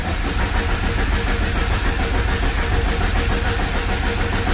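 A Ford Mustang SVO 2.3 turbo cranks with the fuel pump on and does not start: a loud, steady, close mechanical whir and hiss that holds unbroken throughout, no voices.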